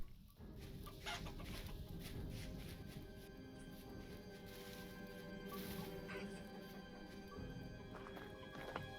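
Chickens cluck amid a busy farmyard with horses clip-clopping and whinnying, steady moderate-level animal noise throughout with no talking.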